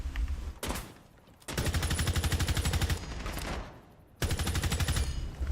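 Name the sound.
gunfire in the video game Rainbow Six Siege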